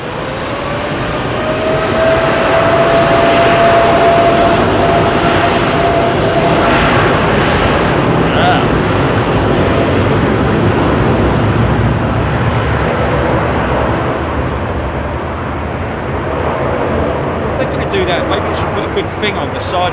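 An airliner departing runway 27R at London Heathrow Airport gives off a loud, sustained jet engine roar with a rising whine, steady for most of the span before thinning slightly at the end, with faint voices underneath.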